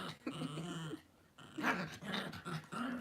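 Two pet dogs squabble at home, with close low growls and whimpering snarls coming in uneven bursts and brief pauses between them.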